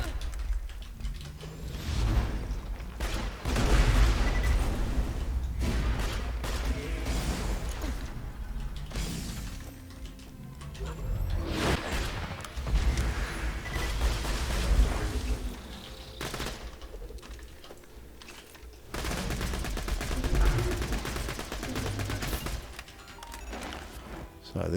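Gunfire in Borderlands 2 as Maya the Siren shoots at crystalisks, bursts of rapid automatic shots mixed with shattering crystal crashes and mechanical clatter, loud and close, recurring in waves over the whole stretch.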